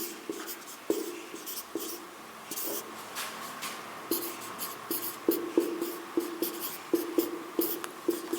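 A teacher writes out a class 10 arithmetic progression maths solution, a run of quick scratchy strokes and taps in an irregular rhythm, close and fairly loud, with no talk.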